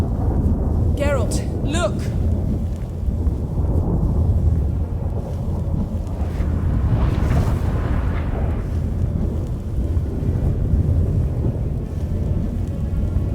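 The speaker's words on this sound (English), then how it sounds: "That a storm?" Thunderstorm in the Witcher 3 game: a loud, continuous roar of rumbling thunder and heavy rain fills the scene, with people talking over it and brief whooshing effects near the start.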